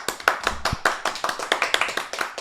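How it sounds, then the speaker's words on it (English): A crowd of people clapping in applause for Newcastle, dense and continuous hand claps with a steady rapid patter throughout, no talking over it. "Someone we're gonna give a round of applause to"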